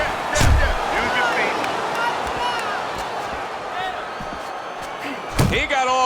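Heavy uppercut punches thud home in a boxing video game as LaMotta fights, two loud low impacts near the start and end of the stretch over steady crowd noise and commentary.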